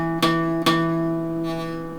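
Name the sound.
guitar string buzzing, fretted too close to fret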